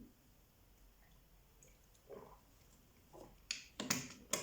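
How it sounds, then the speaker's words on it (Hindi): A woman drinks water in quiet surroundings. Soft wet clicks and gulps come in a few scattered sips, growing louder and closer in a quick cluster near the end. "मैं पानी पी रही थी"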